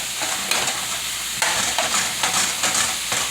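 Ground beef semi-cooking in a pan on the stove, stirred with a wooden spoon: a steady broadband sizzle with repeated scraping stir strokes, close and fairly loud, no talking.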